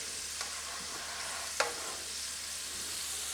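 Potatoes coated with rice flour fry in hot oil for Manchurian, giving a steady soft sizzle with a couple of brief clinks from stirring.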